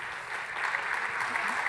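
A keynote audience applauding, a steady dense wash of clapping that swells slightly and holds throughout, fairly distant and even, with no talk over it.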